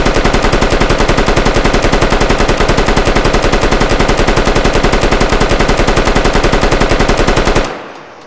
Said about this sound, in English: The PKP Pecheneg